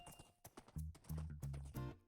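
Rhythmic clip-clop of horse hooves in a superflat Minecraft-style survival game, a steady series of close, fairly quiet hoof thuds at a galloping pace with some faint background sound.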